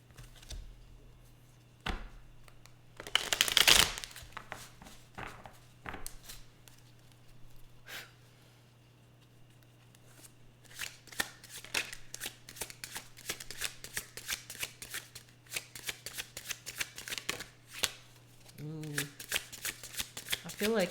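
Tarot cards being shuffled by hand, a long stretch of dense, rapid papery riffling and flicking, close up, after a few scattered taps and one loud rustling burst, with a brief vocal sound near the end.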